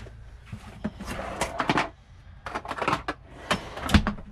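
Drawer in a camper van pulled open and rummaged through for a Phillips screwdriver, a series of close wooden knocks, slides and rattling clatters in irregular bursts.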